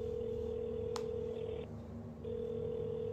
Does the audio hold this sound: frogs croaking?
no